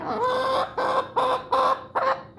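A pet chicken in a back carrier clucks five times close to the mic, each cluck drawn out and nasal, in a steady rhythm with no voices.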